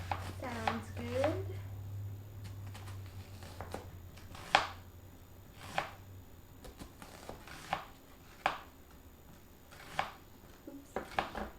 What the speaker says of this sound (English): I'm going to cut the last onion